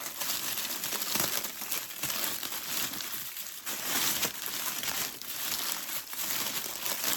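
A nylon zip tie drawn tight on a bundle, heard as continuous dense crinkling and rustling handling noise with no clean ratchet clicks, close up and steady for several seconds.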